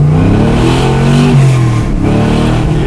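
A 1964 Corvette Sting Ray with progressive linkage revs hard and close, its engine note climbing and dipping in a loud roar with no talking.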